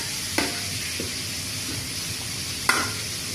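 Chicken asado sizzling and frying in a pan with soy sauce as mineral water is poured in, a steady hiss with a couple of sharp splashes and stirring clatters, close and fairly loud.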